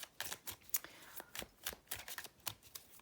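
Tarot cards being shuffled by hand, a run of quick papery riffles and flicks in uneven bursts, close and fairly quiet with no talking.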